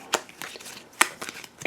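A deck of game cards is shuffled in a few quick, close riffles, with separate sharp bursts of card flutter across the short stretch.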